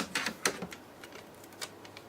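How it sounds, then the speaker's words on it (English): A flap being torn off an old HP EliteBook Folio 1040 laptop battery: a few quiet, sharp crackling rips and ticks, irregular and close, with no talking. "I'm gonna tear it off the old one"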